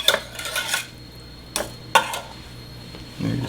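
Béchamel sauce being stirred in a pan gives a few distinct clinks and scrapes of a utensil against metal, close and fairly loud, separated by quieter stretches.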